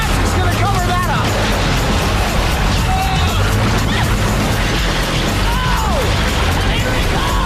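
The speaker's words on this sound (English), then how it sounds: "These excavators are gonna try and shove the house literally off the foundation." Excavators shove a house off its foundation, a dense, continuous roar of crashing and grinding machinery with sharp impacts, loud and close, under a babble of excited voices.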